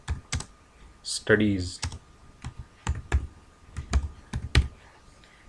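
Keys clatter in sharp, uneven clicks as Python code is typed on a computer keyboard, with separate close taps spread across the stretch and a short spoken word early on.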